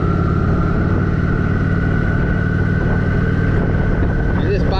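A Kawasaki Vulcan motorcycle being ridden, its engine droning steadily under heavy wind rush, loud and close for the whole stretch.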